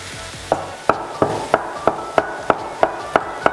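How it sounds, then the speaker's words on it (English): A knife chops a single garlic clove on a cutting board with about ten crisp, evenly spaced knocks, close and clear, against a faint kitchen background. "To this, I'm just going to chop a piece of garlic"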